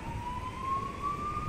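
An ambulance siren in Spain wails steadily at a distance beneath a low background rumble, its single tone rising slowly without pause.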